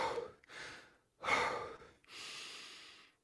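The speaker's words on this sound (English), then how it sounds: "it's okay to take 1 or 2 mouth breaths to blow off that extra CO2" Several deliberate mouth breaths blown out to release extra CO2, close and clearly audible, coming in separate pushes with short gaps between them and a longer sustained exhale at the end, with no talking.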